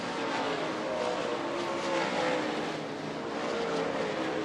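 A race car roars past on an oval track during a night race, a steady, loud broadband engine drone that swells slightly as it goes by, with no talk over it.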